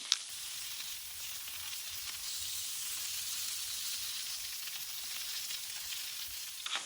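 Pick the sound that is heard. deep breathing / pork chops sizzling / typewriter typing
pork chops sizzling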